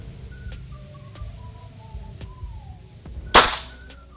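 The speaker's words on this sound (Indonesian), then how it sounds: "Kita tembak siluet sebelah kiri pakai Canon Rocket dulu ya lur ya" A single cannon rocket shot fired at a left-side silhouette target in a shooting video game, one sharp loud burst that fades quickly over faint background tones.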